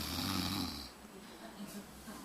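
A person imitates snoring with their voice. The rough, rattling snore is sustained and fairly faint, with no other talk.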